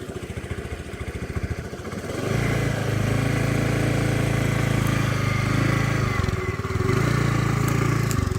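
A motorcycle ridden in Bali by a tourist learning to ride putters at a low idle, then climbs into a steady louder drone, dips briefly and picks up again, close to the listener.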